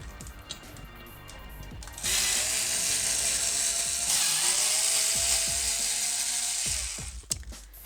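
A ratcheting screwdriver clicks steadily and loudly as black screws come out of an Xbox 360 E heatsink, with lighter clicks and small taps before and after the main run.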